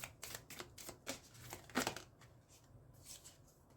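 Tarot cards are shuffled loosely by hand in a quiet room, a string of quick riffling and slapping bursts, close and irregular, with short pauses between handfuls.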